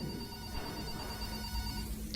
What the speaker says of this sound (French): Il y a un téléphone qui sonne.